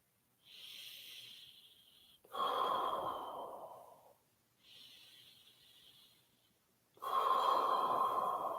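Paced breathing exercise, with two close, unhurried cycles: a softer airy breath in, then a longer, louder rushing breath out, alone with no talking.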